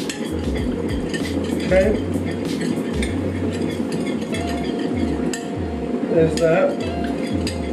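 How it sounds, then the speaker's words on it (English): Spoon stirring and mixing chicken tahchin ingredients in a metal pot, repeated scraping and clinking strokes in a steady rhythm, close and clear, with a person briefly speaking over it. "Where's the spoon? Just get it all mixed."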